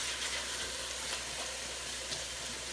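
Lean pork sizzling in a pan with a little olive oil, a steady crackling hiss with a few soft stirring scrapes, close and continuous with no talk.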